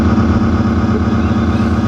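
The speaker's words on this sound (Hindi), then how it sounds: "मोटरसाइकिल" A motorcycle engine running steadily nearby, a continuous low droning hum with a slight pulsing throb, loud and unbroken throughout, with no voices.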